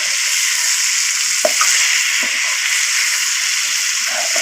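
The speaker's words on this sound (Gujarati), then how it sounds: "હવે આપણે હલાવી નાખવાનો છે હારું કૂકને" Raw banana curry sizzling steadily in a pressure cooker while it is stirred, with a few soft scraping knocks of the spoon against the pot over a constant frying hiss.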